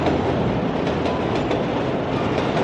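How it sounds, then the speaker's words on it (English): Railcars rumble by in a Rocky II street scene, a dense, loud, unbroken roar with light rhythmic wheel clatter, close and sustained throughout. "Another classic shot of the train."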